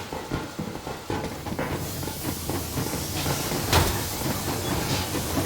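The steam locomotive Aurora from Metro Exodus runs under full steam in a winter setting, a continuous broad hissing and rumbling with rhythmic clanks and a sharp burst of steam partway through, sustained and fairly loud throughout.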